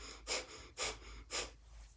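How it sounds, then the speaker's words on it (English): Rapid yogic breath of fire, forceful rhythmic breaths pushed in and out through the nose during a live yoga class, three sharp bursts roughly half a second apart, close and fairly quiet, then near silence. "we're going to do a breath of fire. So that means that you're going to be breathing in and out through your nose"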